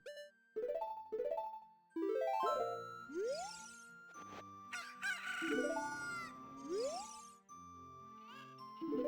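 Rooster crowing and chicken clucking in The Legend of Zelda: Ocarina of Time, several rising crows over game music with bright jingly chimes, loud and close with no talk.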